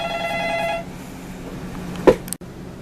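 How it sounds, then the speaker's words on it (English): A telephone rings with a repeated electronic trill in the first second, then stops, leaving a quiet room with a brief knock or handling sound near the end. "every time I go to make a vlog entry, I get interrupted by the phone"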